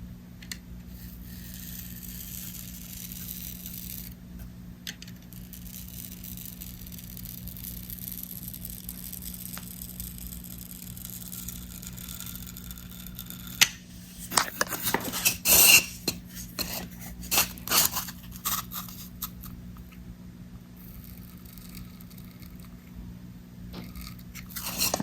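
A tool's smooth side scores an outline into styrofoam in a quiet room, with faint rasping and rubbing scrapes that cluster into a denser run of crunchy, squeaky strokes partway through, then taper off.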